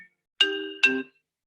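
Phone notification chime, two quick bright tones in clear succession, the second slightly lower, near and clean against silence.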